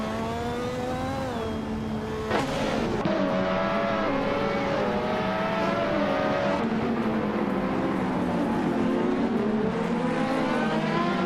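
Race cars scream around a track in a racing video game, engines revving and shifting pitch as they accelerate through gears, a steady loud multi-car roar with a sharp transient around two seconds.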